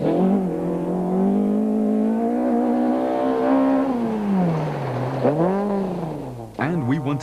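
A rally car from the 2005 Osram Rally powers hard through corners, its engine note loud and close, rising and falling with the throttle and holding steady before a final sharp rev burst; no voices.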